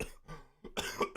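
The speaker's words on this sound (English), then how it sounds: "I would have not coughed." A single person coughs sharply twice, close and fairly quiet, with short bursts separated by a brief pause.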